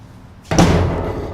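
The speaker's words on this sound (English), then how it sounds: "it's got a slam paddle latch here on the door" Trailer door on a 2023 Cimarron Lonestar stock combo trailer slamming shut onto a slam paddle latch, one sharp, loud, close metallic bang with a brief ringing tail.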